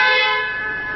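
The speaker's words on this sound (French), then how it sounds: "Pour avoir le klaxon, vous appuyez simplement sur la commande." A car horn sounds in one sustained, loud, bright tone that fades slightly over about a second, heard alone and close by.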